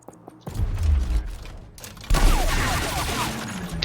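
Gunfire in the tactical combat game Gears Tactics, a burst of rapid shots opening at about half a second and then a second, louder volley, dense and close with echoing debris.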